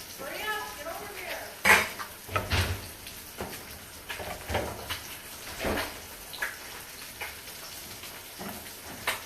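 A spoon stirs tea-infused rice in a pot, with scattered clanks and scrapes of metal on cookware at an irregular pace, fairly close and alone.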